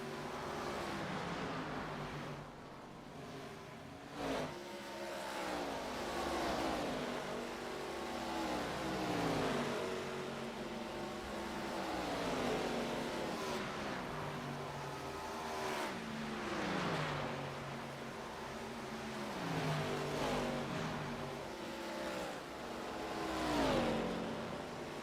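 Stock cars racing around Atlanta in iRacing's ARCA series, engines rising and falling in repeated revving sweeps as cars pass and shift, a continuous layered roar with no talk over it.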